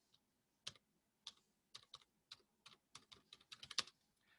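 Computer keyboard keys tapped in short irregular bursts during an online lecture, quick clicks speeding up toward the end, close and fairly quiet with no talking.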